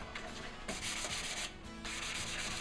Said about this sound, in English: we sand the surface of the cabinet